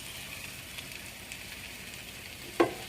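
Vegetables with oil, salt and pepper sizzle steadily over medium-low heat in a deep pot, a soft continuous frying crackle with one sharp clink near the end.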